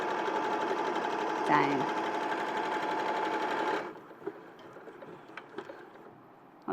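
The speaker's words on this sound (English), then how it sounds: "all I'm doing now is machining 5/8 the seam" A sewing machine stitches a 5/8 seam in a steady, fast mechanical whir with a brief voice over it, then stops, leaving faint clicks and small handling sounds.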